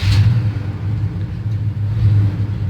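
A 1975 Chevy Silverado C10 truck engine idles after a cold start, with a low, uneven rumble that pulses and swells, close and steady with no talking.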